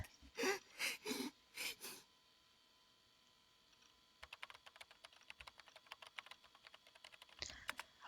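Keyboard keys struck hard and fast in the Chaos;Head NOAH game, a dense run of sharp clacks after a short burst of gasping voice sounds, ending in a few louder hits.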